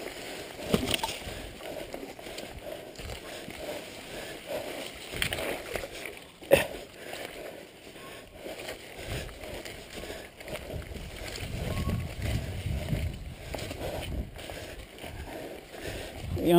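Surly Pugsley fat bike tires and boots slosh and splash through muddy water holes on a trail, soft intermittent squelches and sloshes under occasional talk.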